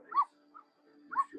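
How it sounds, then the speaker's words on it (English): A dog gives two short yipping barks about a second apart, fairly faint and somewhat distant, with a soft whimper-like sound between them. "I thought I heard a dog"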